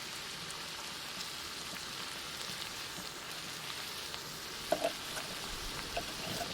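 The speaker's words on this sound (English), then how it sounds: "Let's get our onions and garlic. I'm going to use a little avocado oil in my pan." Onions and garlic sizzle in avocado oil in a Firebox 5-way cast iron pan at a campsite, a steady soft hiss like light rain with a couple of brief clinks, no voices.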